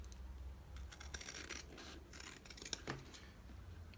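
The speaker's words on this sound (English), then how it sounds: "So we are cutting it for you to see it." Sewing scissors snip through fabric to shape a double collar, giving quiet, crisp cuts and soft rasping strokes close by, with no talking.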